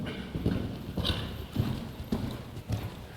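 A light horse clip-clops through a jumping clinic, its hoofbeats landing in a steady rhythmic series of thuds, fairly close.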